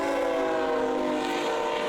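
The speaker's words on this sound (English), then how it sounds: "Trains rumble through the crossing every 10 minutes" A train rumbles through the Rosecrans and Marquardt Avenues railroad crossing in Santa Fe Springs, a steady, loud, sustained tone with a horn-like hum running unbroken throughout, with no talking.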